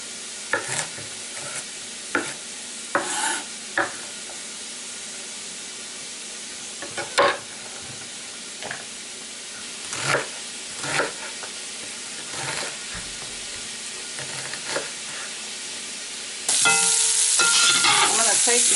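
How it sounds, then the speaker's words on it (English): Sausage fries in a pot, a steady sizzle broken by repeated scraping stirs at irregular intervals, growing louder and denser near the end. "I put my sausage in and I'll let it cook for about 30 minutes"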